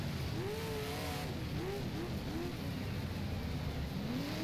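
Big block modified race cars in the sim game rFactor at Utica Rome, a steady engine roar with rising and falling pitch sweeps as cars rev through corners, continuous and fairly even in level.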